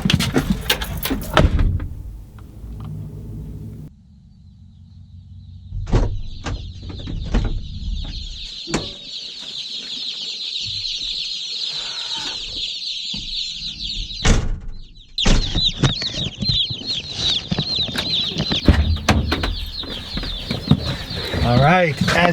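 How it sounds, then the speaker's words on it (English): Box of baby chicks picked up from the post office, a dense continuous high peeping from many birds, close and lively, with bumps, rustling and brief handling noises at the start and a short gap midway. "the chicks are in"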